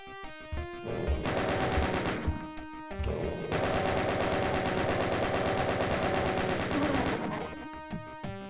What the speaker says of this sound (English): And there goes my chain gun ammo.